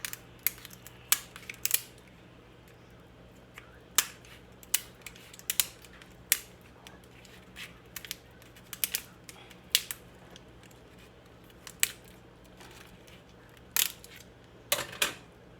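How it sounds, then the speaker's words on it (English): Kitchen shears snip through a lobster tail shell in a string of sharp, close clicks and cracks, irregularly spaced and some in quick pairs, over a quiet steady background. "Take your kitchen shears and cut it."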